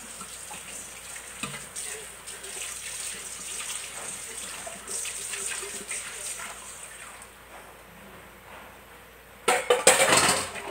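Water runs from a tap at a sink while dishes are washed up after baking, a steady close splash with clinks of glass and crockery and a louder burst of running water near the end, with voices at times.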